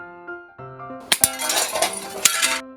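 A stone launched from a homemade bottle-and-balloon shooter strikes and smashes a target with a sharp crack, then glassy clinks and scattering debris follow over a soft tonal background.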